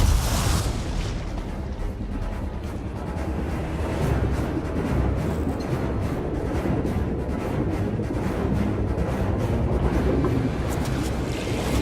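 Gunfire and explosions in a combat video game shown at E3 2017, heard as a dense, continuous wall of rumbling booms and crackling fire that stays loud and steady throughout, with no clear speech.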